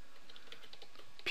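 Quiet, rapid clicking of keys on a computer keyboard, a string of soft taps with no voice over them.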